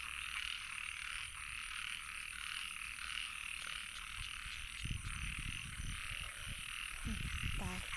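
Frogs croaking during rain at night, a dense high chorus of trilling calls over a steady rain hiss, with occasional low rustles and bumps nearby.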